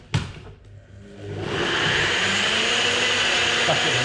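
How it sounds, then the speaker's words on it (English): Nutribullet blender mixing a protein shake with almond milk, starting with a thump, then the motor spinning up over a second into a loud, steady whirring roar. "Stuff it in a Nutribullet."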